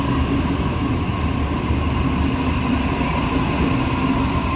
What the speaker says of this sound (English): A20 is now arriving on platform 2